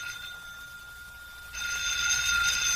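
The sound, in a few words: telephone ringing, radio drama sound effect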